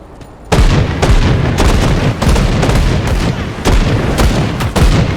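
Guns in the video game Grim Dawn fire in a rapid series of loud, heavy booming shots at an uneven rhythm, up close and with no talking.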